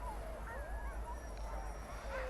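Sled dogs, fed on shark meat in a cold northern setting, barking and yipping in short, overlapping calls with whining tones, moderately distant over a low rumble of wind or engine noise.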